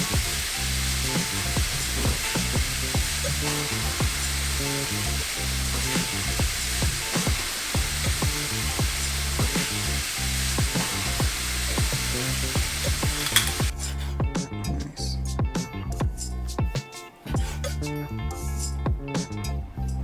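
Steak sizzling and frying in a hot pan, a dense continuous crackling hiss with steady popping, loud and close throughout, thinning out near the end.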